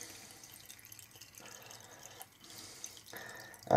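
Melted wax draining and dripping off a cotton makeup pad, a faint run of small quiet drips and trickles close by, ending in a sudden louder knock.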